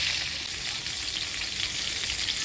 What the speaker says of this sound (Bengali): এবার হলুদ লবণ দিয়ে আলুগুলোও ভাজিয়ে নিব।